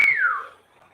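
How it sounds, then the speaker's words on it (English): A phone's wolf-whistle notification: after a short click, one bright whistle glides downward and fades within half a second, clear and close with nothing else around it. "I got this on my phone, this wolf whistle notification thing"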